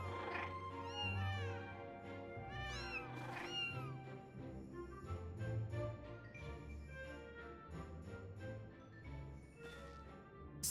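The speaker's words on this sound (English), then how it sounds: "The cats!" Cats in Final Fantasy XIV meow in a run of rising, wavering calls, most frequent in the first few seconds, laid over a busy music track at low volume.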